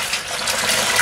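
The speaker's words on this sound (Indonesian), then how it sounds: "Kita akan tambahkan air lindinya setengah gayung saja" Half a scoop of strong, concentrated leachate water is poured in a home vegetable garden, a steady close gush of liquid lasting about a second.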